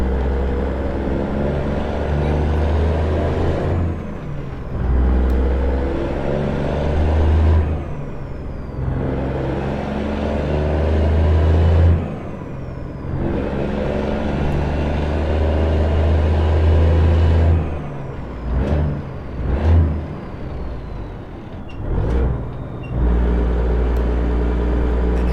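A clapped-out Peterbilt 359 with a 10-speed transmission accelerates up a highway on-ramp, its loud diesel rumbling close by and climbing in repeated surges, with brief dips between gear shifts and some hesitant shifting near the end.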